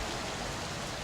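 Steady pouring rain ambience for a nighttime scene aboard the ship Sterling, a dense even hiss of heavy downpour with no pauses or distinct drops standing out.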